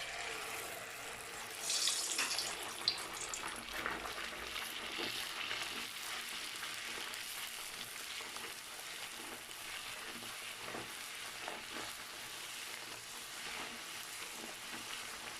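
Puri dough frying in hot ghee gives a steady, dense sizzle and crackle that runs unbroken throughout, close by, with brief louder bursts near the start as it goes into the fat.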